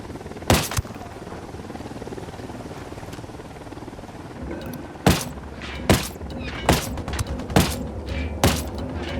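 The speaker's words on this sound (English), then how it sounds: "Who need that chopper?" A helicopter in the video game Ghost Recon Wildlands, its rotor thrum a steady drone beneath a rapid series of loud booming gunfire and explosive thuds in the second half.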